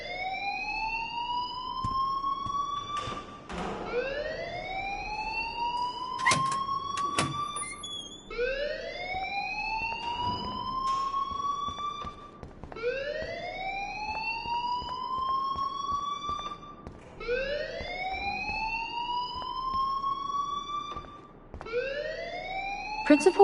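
A school alarm in Life is Strange wails in rising sweeps that repeat roughly every three and a half seconds, steady and fairly loud, with occasional clatter and talk beneath.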